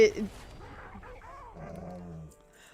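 A dog lets out a short, sharp bark right at the start, then a person talks at a moderate level with no further clear barking.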